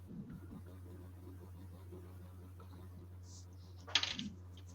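Dice rolled for a stealth check during a tabletop role-playing game, a brief clattering tumble near the end over a low steady hum.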